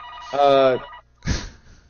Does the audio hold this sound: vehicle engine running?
no